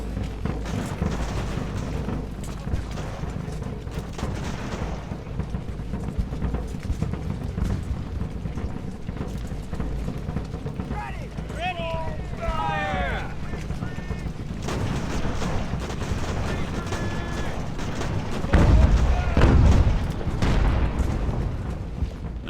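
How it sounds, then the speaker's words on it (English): Artillery fire in Ultimate Admiral: Age of Sail, a dense battlefield din of scattered booms and crackling musketry layered with mechanical clatter, with a heavier blast near the end. "I want to let the artillery start firing on them first"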